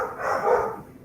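Dog barking during a casual conversation, a single short burst that rises and fades over about a second, moderately loud and set against background room sound.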